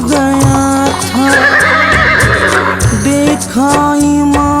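The Imam's horse neighs loudly and close, long shrill whinnies rising and falling over several seconds with a second call near the end, set against a steady musical drone.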